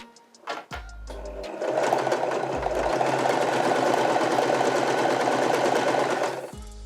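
A Janome 311 sewing machine stitches a buttonhole, starting with a few separate needle thumps before settling into a steady, loud, rapid mechanical whir for several seconds and stopping abruptly.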